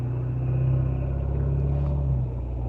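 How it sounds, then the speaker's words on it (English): Heavy trucks pass close by outside at night with a loud, steady engine rumble. The roar swells slightly in the middle and eases toward the end, with no voices over it. "I apologize for the excessive amount of very loud trucks that are out here tonight"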